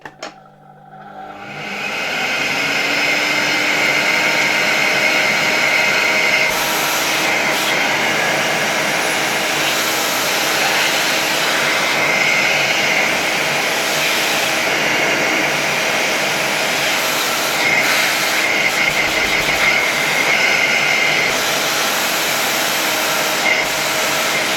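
An Electrolux D730 vacuum cleaner from 1982 switches on with a click and spins up to a loud, steady whining roar that holds for about twenty seconds with slight shifts in pitch.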